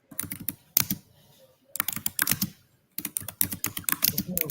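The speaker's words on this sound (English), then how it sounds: "I don't know who that is typing." Rapid clicking keystrokes from a computer keyboard come in three quick bursts separated by short pauses, fairly close and crisp, with no one talking over them.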